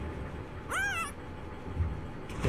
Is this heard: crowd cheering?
no